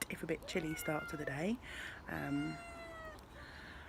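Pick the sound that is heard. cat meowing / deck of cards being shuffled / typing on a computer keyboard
cat meowing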